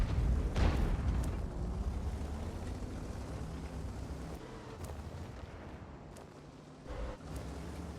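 Tank cannon fire and shell impacts from the World of Tanks game during a Prokhorovka battle with an Object 907: a heavy boom opens, followed by a rumbling tail and a few sharper hits later under a low engine drone.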